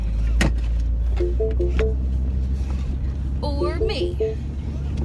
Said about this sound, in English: We are driving ye olde Mini Cooper to the Renaissance Fair.